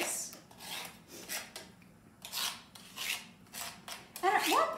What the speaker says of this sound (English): Once it collects on the side, we're just going to scrape it off into our bowl